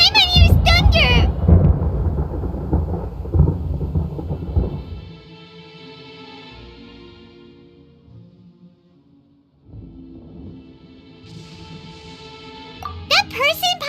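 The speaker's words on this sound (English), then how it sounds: "Paimon used thunder!" Thunder attack in the video game Genshin Impact, a loud rumbling burst of crackling energy and low booms that fades into soft lingering tones and quiet, with a short sparkling flourish at the end.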